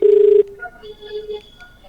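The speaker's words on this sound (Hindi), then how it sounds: "अब हम राम कल्याण जी को कॉल लगा रहे हैं" A telephone call is dialed: a loud, steady electronic tone for about half a second, then fainter beeping tones close by, with no one speaking.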